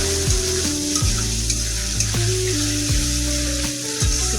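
Cumin seeds and chilli sizzle steadily in hot oil in a pan while a fish curry is being cooked, a loud continuous frying hiss with background music playing underneath.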